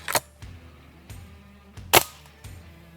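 A Ruger Yukon Magnum pellet rifle from Umarex fires a cluster of shots, each a sharp, close crack followed by a soft thud, about five in three seconds, alone without talk.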